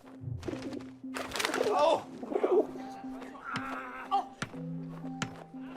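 Pigeon-like bird in the video game 11-11: Memories Retold gives a short low coo near the start, followed by scattered game thumps and faint voices in the background.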